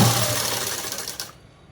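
A sewing machine motor whirs steadily as it stitches a straight seam on cut-work pants, running loud and close for just over a second before cutting out.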